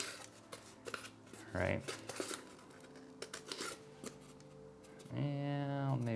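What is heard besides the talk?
cutting out splint material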